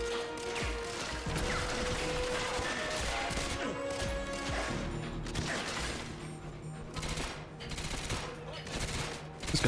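Rapid automatic gunfire in GoldenEye 007: Reloaded, dense rattling bursts with mechanical clatter under continuous game sound, loud and close throughout.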